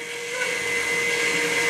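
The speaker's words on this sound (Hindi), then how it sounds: "उसके बाद जो मिक्सर है उसको ऑन करते ही ये मकई अच्छे तरीके से मिक्स हो जाएंगे" A corn mixing machine runs with its mixer switched on, churning maize in a steady, loud mechanical whir and rattle that holds without a break for the whole stretch.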